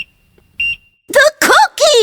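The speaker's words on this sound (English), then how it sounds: "She turned off the timer on the oven" An oven timer goes off with a couple of short, shrill electronic beeps, followed by an expressive voice speaking loudly over the quiet afterward.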